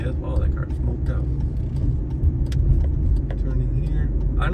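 A car speeds away with a heavy low rumble on a road near West Ridgewood Drive, heard from inside a moving car as a steady loud roar with a voice talking over it.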